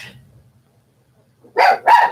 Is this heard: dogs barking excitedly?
yes